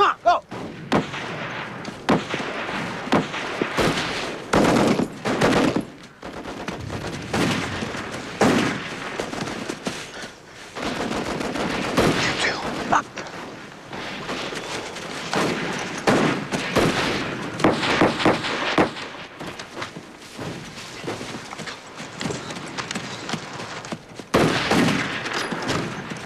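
Dense bursts of machine gun and rifle fire on a war film battlefield, loud and close, with rapid volleys and heavy thumps repeating through most of the stretch, plus a few shouted voices.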